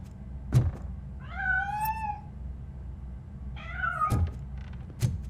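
A cat meows twice in the video game Robocop Rogue City, two rising, wavering cries about two seconds apart, with a few dull thumps around them and no talk.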